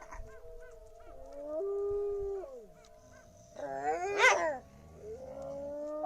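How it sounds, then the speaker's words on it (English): Captive wolves at a wolf center howl to one another, long sliding tones overlapping in a loose chorus, with a brief rougher, barking-like outburst near the end, moderately distant. "So these are some of our wolves talking to each other."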